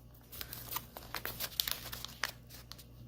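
Paper crinkles and creases in quick, uneven bursts as it is folded into an origami dragon, close-up rustling with no voices.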